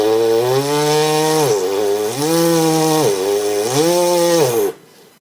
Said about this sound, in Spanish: Lo único que estoy haciendo es apretar excesivamente el aro sobre mis labios, y como veis el sonido cambia.